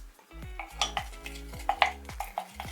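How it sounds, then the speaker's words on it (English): A utensil stirs a DIY hair growth mix with flaxseed gel in a bowl, giving repeated soft scraping strokes and light clinks against the bowl at close range, with no talking. "I'm just going to keep mixing that until it becomes completely emulsified together"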